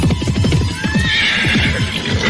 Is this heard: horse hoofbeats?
yes